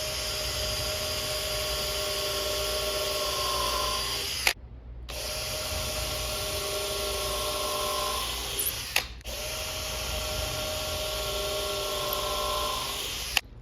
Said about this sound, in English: Well, it drills.